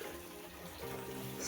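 Snowmelt water trickles off a field into a small muddy stream, a soft, steady splashing flow heard close and faint.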